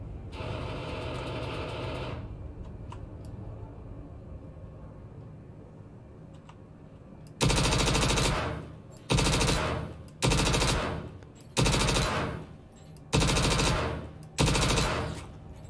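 Bursts of full-auto gunfire from the Star Citizen video game, about six loud rapid-fire volleys separated by short gaps, following a quieter stretch of low game ambience.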